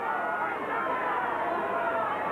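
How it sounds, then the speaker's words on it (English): A large stadium crowd roars steadily in a dense, unbroken wall of sound as it cheers on Papua New Guinea at a 1995 World Cup match against New Zealand. "And again the crowd get behind Papua New Guinea."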